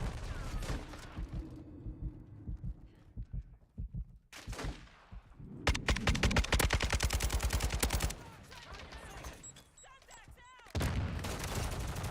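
Video-game gunfire: rapid automatic bursts and single loud shots come in clusters with short gaps between them, mixed with game effects and occasional talk.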